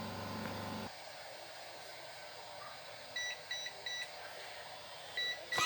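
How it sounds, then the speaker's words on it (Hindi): A mobile phone cover printing machine beeps when its timer ends, a few short high electronic beeps in quick groups over a steady machine hum after a louder mechanical sound cuts off. "टाइम पूरा होते से ही हम जो है ये मशीन बीप करेगी"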